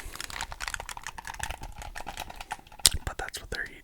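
Rapid, dense clicking and tapping of buttons on a worn Xbox Elite 2 controller, close and crisp, with a sharper click near the end, while a voice whispers throughout.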